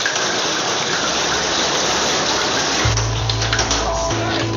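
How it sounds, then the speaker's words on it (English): A dense, roaring wash of inch-thick hail pounds down during a microburst, loud and continuous, with heavier rumbling impacts joining in toward the end. "But the force of the microburst doesn't let up. The hail is like an inch thick."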